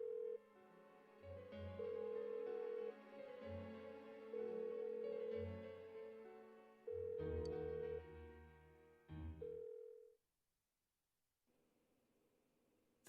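A telephone rings in the video game Persona 4 Golden, giving about four repeated tonal ring bursts in a steady rhythm that then stop, leaving quiet.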